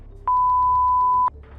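An answering machine gives a single clean, steady electronic beep lasting about a second, loud and alone against a quiet background hum.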